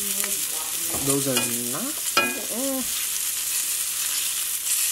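Food frying in a pan, a bright steady sizzle that stays loud and close while someone talks over it.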